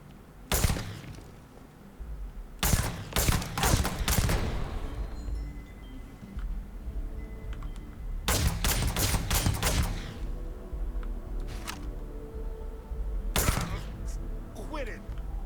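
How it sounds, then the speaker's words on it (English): Gunfire from a two-shot gun in the Starfield video game, heard as loud sharp bursts of paired shots in several clusters, spread through the stretch with voices and game sounds underneath. "it fires 2 shots. Cool gun."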